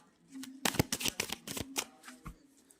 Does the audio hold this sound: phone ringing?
no